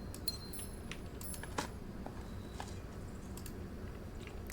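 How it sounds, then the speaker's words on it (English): A bunch of car keys being picked up in the video game Blue Prince, giving a light metallic jingle with a few brighter clinks, soft against a steady low background hum. "Oh, there's the car keys."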